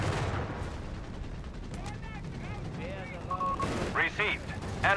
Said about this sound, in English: We got more artillery strikes here.